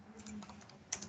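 A few keys pressed on a computer keyboard for an Alt F1 shortcut, soft clicks close by with a sharper final tap, quiet and alone.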